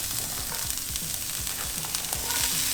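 Meatloaf ingredients sauteing in a pan, a constant close hiss and crackle of frying, with repeated scraping strokes from a spatula pushing the food around.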